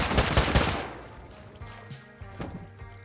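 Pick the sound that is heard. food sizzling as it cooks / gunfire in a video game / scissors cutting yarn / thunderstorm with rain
gunfire in a video game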